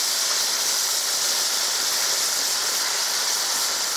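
Marinated stir fry with seasoning and cracked pepper sizzles steadily in a hot pan, a loud, continuous bright hiss with no pauses and no voices.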